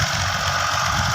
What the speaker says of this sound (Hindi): और आगे ट्रैक्टर भी चल रहा है।